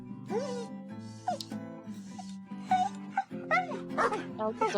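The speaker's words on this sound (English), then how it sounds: "I like the difference in the dog noises too." Cartoonish dog yips, whimpers and barks from a Rhythm Doctor cutscene come in quick varied bursts over a sustained musical backing.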